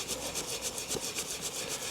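Wet concrete rubbed and worked against the inside of formwork for a garden railway section, a steady gritty scraping that repeats in even strokes, close and alone.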